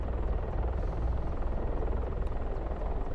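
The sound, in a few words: helicopter hovering in DCS World video game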